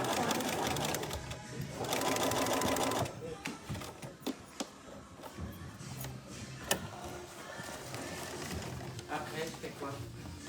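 A sewing machine stitching a backstitch while sewing a tote bag with French seams, a dense steady whirring run that stops, then scattered clicks and handling noises with a voice talking over it.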